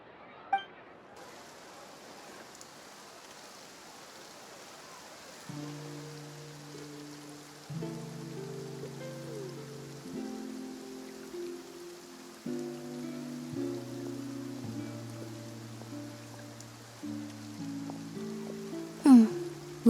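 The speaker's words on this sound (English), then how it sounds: "Looks like rain." Rain falls steadily in the Fontaine region of the video game Genshin Impact, a soft continuous patter under gentle tonal game music, with a few faint clinks.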